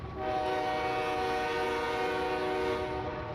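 A diesel locomotive horn in a Train Sim Classic railroad simulation, a KCS (CPKC) engine on the Shreveport Subdivision, holding one steady chord-like blast for several seconds over a low rumbling engine and rail noise.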